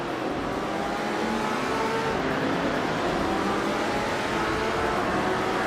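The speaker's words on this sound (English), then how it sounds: "Popcorn Slayer is driving a 1963 TVR Griffith 200" A 1963 TVR Griffith 200 races in a video game, its engine droning steadily and loudly throughout with a continuous high-revving roar.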